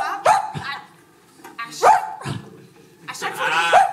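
An improv actor imitating a barking dog during a Montreal improvisation match: three separate yelping woofs spaced about a second and a half apart, close and fairly loud, with a voice in between.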